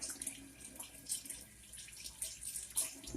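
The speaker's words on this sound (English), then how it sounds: "Wash my hands." A kitchen tap running while hands are washed, water splashing and hissing into the sink in uneven surges, close and steady, with no one talking.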